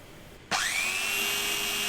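A power sander grinds flat a round red polyurethane brake pad, starting abruptly after a quiet moment and then holding a loud, steady, high whine with a rising tone, close and alone.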